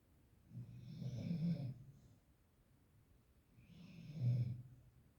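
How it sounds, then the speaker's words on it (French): A tired baby snoring, two long rasping breaths a few seconds apart, close and moderately loud. "c'est lui qui ronfle"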